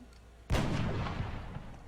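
A single sharp gunshot in the XCOM strategy game bursts out after a brief quiet and then trails off in a fading rumble.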